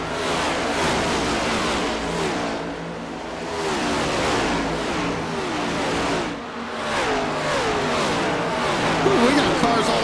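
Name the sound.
race cars in a NASCAR racing video game at Darlington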